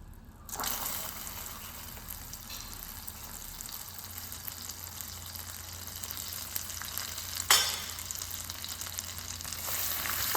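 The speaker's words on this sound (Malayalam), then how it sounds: "ഇനി ഇതിലേക്ക് 2 ടേബിൾ സ്പൂൺ ബട്ടറാണ് ആഡ് ചെയ്ത് കൊടുക്കേണ്ടത്." Two tablespoons of unsalted butter melt in a pan for homemade Snickers-style chocolate. A steady, soft sizzle continues throughout, broken by a brief utensil clatter partway through.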